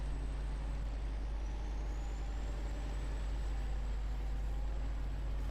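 A Western Star 47X truck with a semi-trailer and concrete load climbs uphill in low range with diff locks engaged in a snowy off-road game, its engine a steady low rumble under a faint high whine that slowly rises in pitch.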